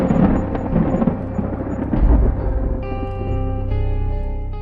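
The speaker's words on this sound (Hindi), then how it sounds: "बादल ऐसे गरज रहे थे जैसे आसमान किसी फैसले पर" Heavy thunder rumbles continuously and loudly through a stormy night, with a deep low surge midway, overlaid by steady ringing tonal music.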